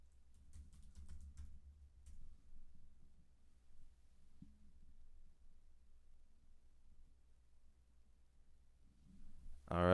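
Soft keystrokes on a computer keyboard as a search is typed into YouTube, faint and scattered over a steady low hum, with a sudden louder noise at the very end.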